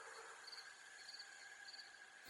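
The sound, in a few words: insects chirping and buzzing, audiobook sound effect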